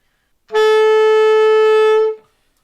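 A single sustained clarinet B note, held steady for about one and a half seconds, played close and alone.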